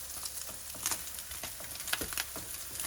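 Vegetables go into a hot pan with browning Spam for fried rice with Spam and pineapple, setting off a steady loud sizzle with scattered crackles and stirring scrapes, close and continuous.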